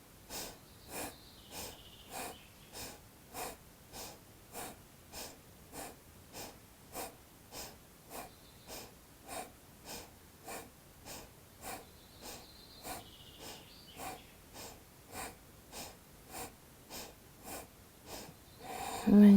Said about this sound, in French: Et on y va, respiration dynamique